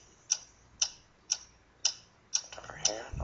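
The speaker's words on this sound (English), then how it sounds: "What is that mysterious ticking noise?" Sharp, evenly spaced ticks repeat about twice a second, six clear clicks in a row, crisp and fairly close, before a low rumble and a voice begin at the end.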